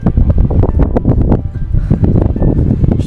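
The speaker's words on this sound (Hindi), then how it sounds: "क्योंकि बहुत तेज हवा है।" Strong, gusting wind roars steadily into the microphone on a steep mountain path at Manngi Tungi, Maharashtra, during monsoon rain. The buffeting is loud and continuous with no pause.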